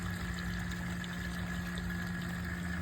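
A pond pump running after being switched on, pushing water from a duck pond into a drain hole, heard as a steady continuous hum with mechanical drone and water rushing, constant throughout with no talking.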